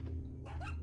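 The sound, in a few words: dog barking in video game Resident Evil 4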